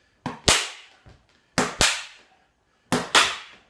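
Sharp cracking strikes of fighting sticks in stickboxing practice, three pairs of loud snapping hits, each double crack close together, separated by brief pauses.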